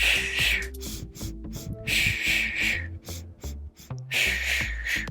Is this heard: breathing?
yes